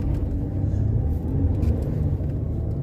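A front-wheel drive car under hard acceleration gives a deep, steady engine rumble, loud and close, with no voices.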